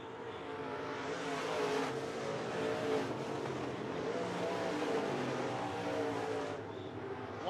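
B-Mod race cars roar around a dirt oval during a heat race at night, several engines blending into a steady, loud drone with swells as cars pass, no voices over the noise.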